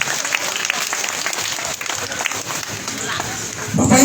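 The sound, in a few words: applause for Bapak Rudi Sirwa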